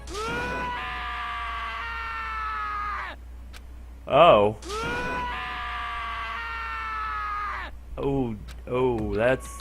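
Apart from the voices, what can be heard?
character screaming in Danganronpa video game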